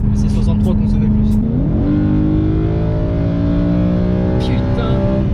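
BMW M3 E92 with a Remus exhaust revs loudly up close, its engine note climbing in pitch and holding a steady high drone, with people talking over it.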